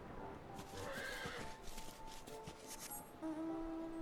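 A horse mount in Final Fantasy XIV gives a drawn-out neigh, with soft clip-clopping hooves and other game sounds around it at moderate volume.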